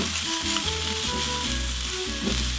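Rice tipped into a hot frying pan with green onion for ham fried rice sizzles loudly and steadily, a dense crackling hiss close by with a faint underlying hum, and no voices.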